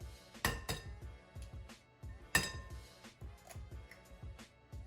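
Eggs are cracked into a mixing bowl and stirred with milk. Sharp clinks of shell or utensil against the bowl ring out, two of them prominent, among lighter taps and rattles with no talk.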